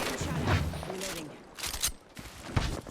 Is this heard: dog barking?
no